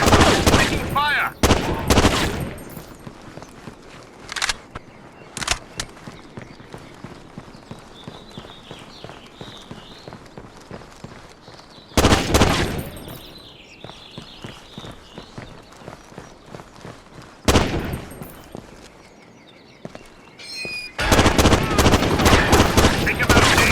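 Bursts of gunfire in the Rainbow Six 3 Black Arrow tactical shooter, sharp loud volleys separated by quieter stretches with footsteps, radio chatter and voices in between.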